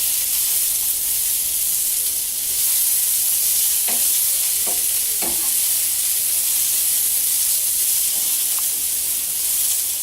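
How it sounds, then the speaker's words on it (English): Salmon and asparagus sizzle in a pan with a steady, even hiss that runs throughout, broken by a few soft clicks and pops. "It seems to be simmering."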